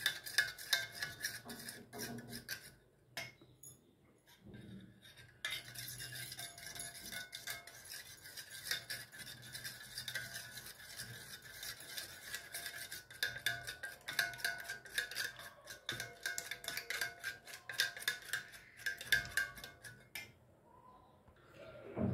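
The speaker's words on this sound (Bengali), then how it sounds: "ডিমটা আমি খুব ভালোভাবে ফেটিয়ে নেব। মসৃণ করে ডিমটিকে ফেটিয়ে নেব।" Eggs whisked smooth in a bowl for an eggy eggplant dish, a steady run of quick rhythmic clicks and scrapes of utensil against the bowl, close and fairly faint, with short pauses partway through and no talking.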